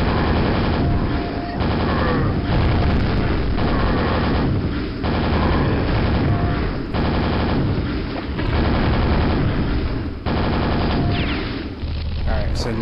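Gunfire in the horror video game Dwell, dense loud bursts of rapid shots running almost continuously for the whole stretch, with brief gaps between volleys.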